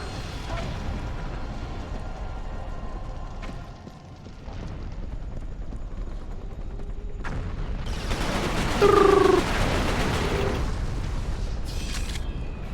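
Video game gunfire in Resistance: Fall of Man crackles in bursts of rapid shots and heavy booms, fairly loud against a rumbling battlefield background, with a louder burst near the end.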